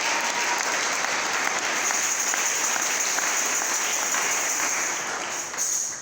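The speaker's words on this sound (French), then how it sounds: "Est-ce qu'on peut acclamer fort pour le Seigneur Jésus-Christ?" A church congregation at a Sunday service claps loudly and steadily, a dense wash of applause from many hands that fills the room and eases off slightly near the end.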